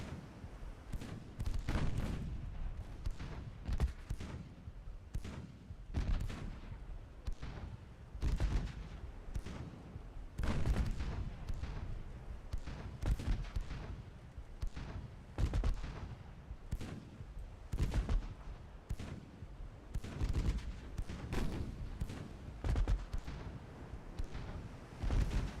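Naval guns, including 3-inch and 4-inch guns and a heavy cruiser's fire, booming in a video game sea battle, with rapid irregular heavy blasts and rumbling impacts continuing throughout.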